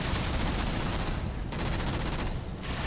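Dense, continuous automatic gunfire from an enemy gun in Halo 4, a loud sustained burst of rapid shots with brief dips, heard alone without talk.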